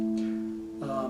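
A single plucked guitar note, A on the sixth string at the fifth fret, rings steadily, then a second pitch briefly enters near the end.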